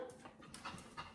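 A pet dog named Yoshi pants in quick, rhythmic breaths close by indoors, soft and steady with no talking over it.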